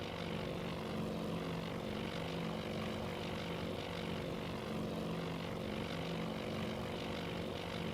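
Propeller aircraft fly in Task Force Admiral, giving off a constant droning engine hum with a steady buzzing tone, unbroken for the whole stretch and fairly subdued.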